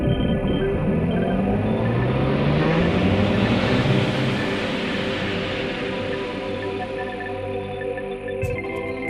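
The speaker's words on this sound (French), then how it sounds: "Nous sentons le vaisseau se soulever délicatement du sol et quelques vibrations sous nos fauteuils" A spaceship lifts off in a sound effect for a children's audio story, a loud, deep, continuous engine rumble with rising whine tones that swells and then holds steady, heard alone without voices.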